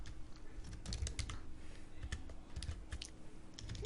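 Fingers type steadily on a computer keyboard, a quick run of close, crisp key clicks with small pauses, quiet and without talking.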